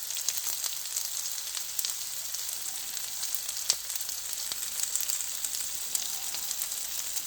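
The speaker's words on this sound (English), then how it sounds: "we're going to throw these in the hot pan here in a second" Chopped onion and pork cracklings (chicharrones) sizzle steadily in a hot pan, a continuous bright crackle with scattered pops, moderately close and with no voices.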